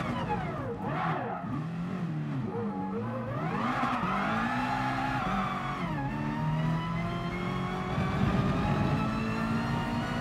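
A GT Sport race car spins out in a GR.2 open-lobby race, its engine revving and whining up and down in pitch over a steady tire skid, close and loud throughout.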